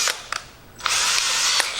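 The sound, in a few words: power drill drilling through metal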